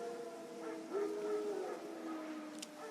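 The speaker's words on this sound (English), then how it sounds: "No. Wild dogs. Yes. More dangerous than wolves." Wild dogs howling in the video game The Witcher 3; a faint, distant wavering howl rises briefly in the middle, set against quiet ambient game background.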